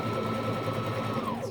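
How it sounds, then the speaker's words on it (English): A sewing machine stitches elastic around the leg hole of a wool diaper cover, running as a steady, continuous motor hum and rapid needle chatter at close range without pause. "I'm sewing the elastic around the second leg hole"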